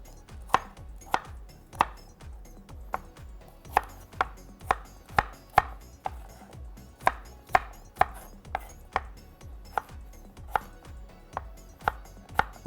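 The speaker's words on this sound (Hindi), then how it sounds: "इस तरह से एप्पल की कटिंग," A knife chops an apple into chunks on a cutting board, giving crisp, evenly spaced thuds, roughly two per second, close and clear with no talking.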